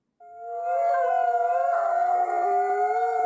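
Several dogs howl together in long rising, overlapping tones that swell in quickly and hold steady and loud, with no talking over them.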